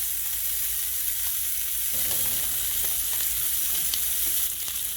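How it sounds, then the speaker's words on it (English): Bacon and hamburger fry together in a hot pan, a loud, constant sizzle and crackle with faint scraping, no voices. "While this bacon's cooking over here, I'm going to just throw in my hamburger"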